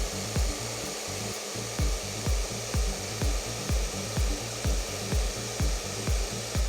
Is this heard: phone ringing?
no